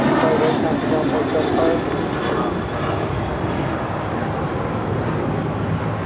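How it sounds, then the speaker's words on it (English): A United Airlines Boeing 737-900ER roars steadily as it departs Los Angeles International Airport for Denver, a continuous broad jet rumble heard from a distance with no letup. "This is United Airlines 489 departing to Denver on a 737-900 ER."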